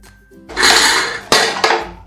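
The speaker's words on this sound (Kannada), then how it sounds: "ಇದನ್ನು ಎಲ್ಲ ಚೆನ್ನಾಗಿ ಮಿಕ್ಸ್ ಮಾಡಿಕೊಂಡು ಲಿಡ್ ಕ್ಲೋಸ್ ಮಾಡ್ಕೊಳ್ತೀನಿ" A metal lid clatters shut on a pot of black-eyed bean usli, a broad clanking scrape followed by two sharp clinks near the end, close and fairly loud with no talking.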